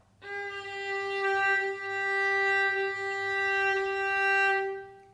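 A single bowed viola note, G on the D string, rings out steadily for several seconds, clear and sustained with no other sounds.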